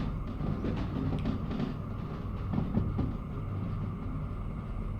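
Heavy military-industrial freight haul in Derail Valley hauled by the Slug locomotive up a grade, a steady low rumble with soft clanking of wagons, moderately quiet and continuous without speech.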